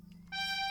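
A pibgorn playing a G note, a bright, buzzy reed tone with rich overtones that enters after a faint pause and holds steadily for a brief moment.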